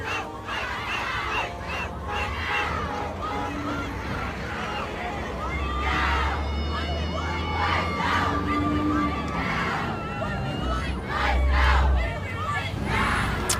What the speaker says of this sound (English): They're screaming, what do we want?